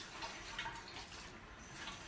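An eighth of a cup of water is added to a lemon, garlic and tahini sauce: a soft, steady trickle and splash, faint and even throughout, with no talking.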